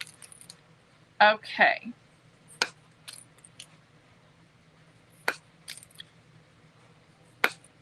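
Cedar shakes being cut for a craft roof: a couple of close crisp cutting snips followed by scattered sharp clicks and taps, with a brief spoken word over the quiet room.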